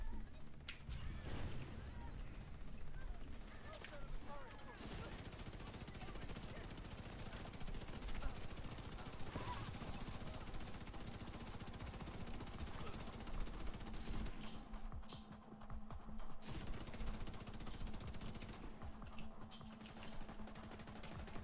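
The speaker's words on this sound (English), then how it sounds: "He's suppressed and shooting me?" Suppressed gunfire in a video game comes as dense, rapid clattering bursts over a busy, noisy game soundscape, fairly faint overall, with brief gaps between stretches of firing.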